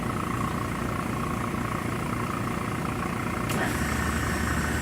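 A Solitec 5110 spin coater's motor runs at top speed during its spread cycle, giving a steady, loud whirring drone with a constant tone. A brief sharp click breaks in near the end.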